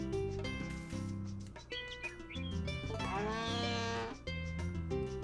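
Cows in the farming video game Harvest Moon: A Wonderful Life let out a few lowing moos, mixed into looping tonal game music that plays throughout.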